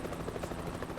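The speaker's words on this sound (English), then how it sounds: "those helicopter blades would totally take me out" Helicopter rotor blades in Euro Truck Simulator 2, a steady loud chopping drone with continuous broadband wash throughout, no voices.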